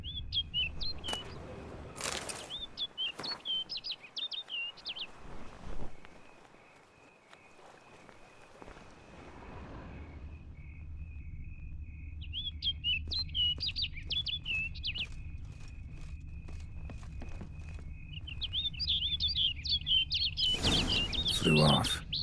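Smitten knight bird from The Witcher 3: Wild Hunt warbles in repeated bright chirping phrases over a steady game ambience with a low drone, with silent stretches and a few louder bursts between songs.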